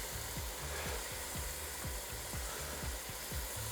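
Steady sizzle and frying hiss from a pan of butter chicken with cayenne and turmeric as tomatoes go in, with a rhythmic scraping of the stirring spoon running under the hiss and no talk.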